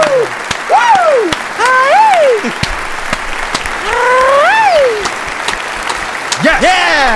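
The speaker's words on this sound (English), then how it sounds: "let's clap it up for the weather this past couple days" A few people clap in a steady, close rhythm while loud whooping cheers rise and fall over the clapping.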